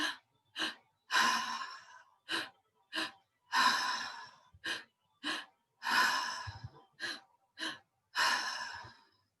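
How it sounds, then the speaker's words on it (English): Repeated deep breaths during a guided breathwork exercise, with long noisy inhales and exhales, about a dozen bursts in a steady rhythm and short pauses between them, close and clear with no talking. "So final few deep inhale, deep breaths"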